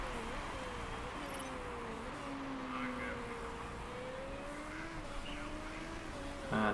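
Race car engines in the Motorsport Manager racing game, a steady droning whine that rises and falls as the cars shift gears, with a voice talking over it.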